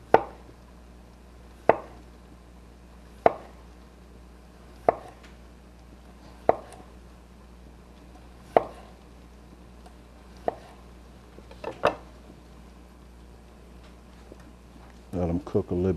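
A knife slicing potatoes thinly on a cutting board makes sharp, evenly spaced chops about every one and a half seconds, close and clear, ending in a brief shuffle of handling.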